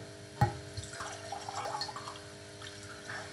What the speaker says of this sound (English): Pouring myself some water